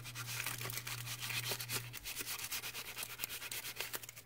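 Wax rubbed firmly onto a card-cutting pad and along its channel makes a rapid scratchy scrubbing, repeated close and steady, with a low hum underneath.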